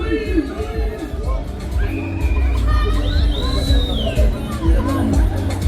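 Crowd shouting and screaming on a funfair ride at the Agen fair, a continuous loud mass of voices with rising yells and shrieks over mechanical rumble.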